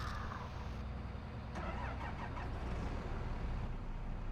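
Old tractor engine cranking and starting in Farming Simulator 22, a rising churn that settles into a steady low idle rumble, close and alone.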